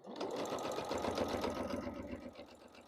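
A sewing machine stitches a seam on a small strawberry quilt block, running in one continuous rhythmic whir with a quick needle pulse, close and clear.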